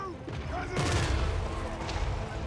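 Thunder barges from Total War: Warhammer 3 fire their cannons in a battle, a booming volley of several blasts that rumbles with clanking mechanisms and a distant burst of fire at moderate loudness.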